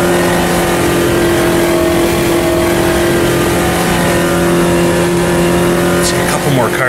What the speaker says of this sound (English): Really throw the car sideways into the first corner.